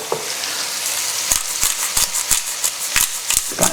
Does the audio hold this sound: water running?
no